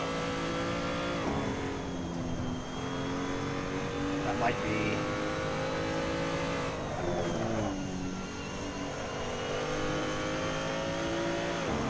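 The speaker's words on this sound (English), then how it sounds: "you can hear the tires bounce" A car's engine hums and revs while driving as the tires chatter and bounce over the road, steady rolling noise with shifting pitch, and someone talks over it.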